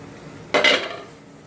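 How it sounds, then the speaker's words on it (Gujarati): A metal steamer plate set down inside a pot for making sandwich dhokla, one bright clattering clank followed by a short ringing rattle that fades, with no voices. "હવે પ્લેટ આપણે મૂકી દઈશું અંદર"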